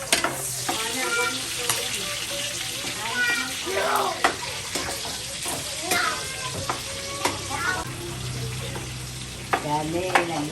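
Cooking oil sizzling in a pan during frying, a busy bright crackle with clinks and scraping stirs, and people talking over it.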